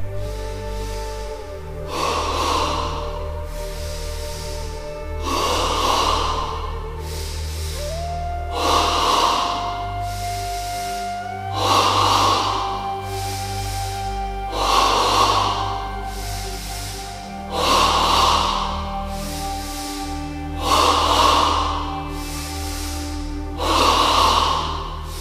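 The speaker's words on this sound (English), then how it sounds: "In stage 1 of double breathing, remember we use only the abdomen, 10 breaths" Rhythmic abdominal breathing in a yoga exercise, about eight forceful nasal exhalations spaced roughly every three seconds, each a loud, breathy snort-like puff over a steady low background hum.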